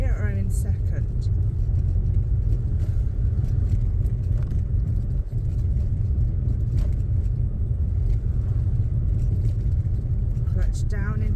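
A learner driver's car moves along in a low, steady engine rumble with gear changes, heard close from inside the cabin while a person talks over it almost throughout.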